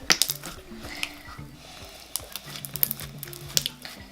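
Small boba beads dropped little by little into slime, giving a run of wet squishy pops and clicks with quiet gaps between them, close and fairly crisp.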